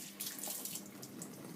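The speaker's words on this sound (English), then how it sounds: "and just under a very gentle trickle" A gentle trickle of tap water runs steadily over a lock of wool fleece being rinsed by hand, a soft, continuous splashing heard close and alone.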